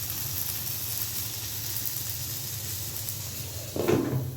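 Eggplant fritters fry in a pan in a home kitchen, giving a steady broadband sizzle and hiss that holds throughout, joined near the end by a short clatter of cookware.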